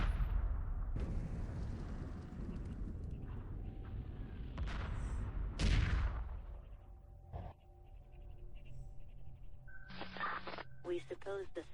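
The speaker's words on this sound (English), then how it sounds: "Blow that asteroid up. Let the drilling missiles do your job." Missiles striking and blowing up an asteroid in the space strategy game Homeworld, a series of heavy booming blasts and crackling bursts trailed by electronic beeps and radio-like tones, with voices talking throughout.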